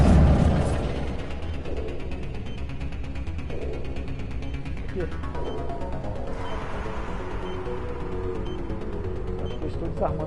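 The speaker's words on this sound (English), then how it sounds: "Estou desarmando uma bomba" Mechanical clanks and ratcheting clicks sound as a bomb is defused in the video game Mass Effect Legendary Edition, starting with a loud burst and then settling into a steady whirring hum with a voice speaking over it.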